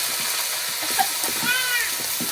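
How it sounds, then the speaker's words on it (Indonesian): Spice paste for cooking patin fish fries in hot oil, giving a steady dense sizzle and hiss that carries on without a break, with faint stirring clinks and a voice speaking quietly underneath. "kita goreng dulu bumbunya Baraya ya"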